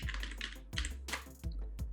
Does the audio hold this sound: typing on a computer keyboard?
yes